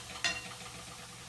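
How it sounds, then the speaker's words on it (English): Ghee hits a hot pan on a kitchen stove with a sudden hiss that settles into a steady, soft sizzle, close by and with no talking. "I'm going to put a little bit of ghee in here"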